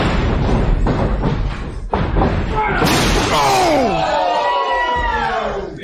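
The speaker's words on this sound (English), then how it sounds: "And just spears him through the door." A wrestler is speared through a barbed-wire-covered door during an indie wrestling match, giving a loud crashing slam amid a roaring crowd, with commentators talking over the noise.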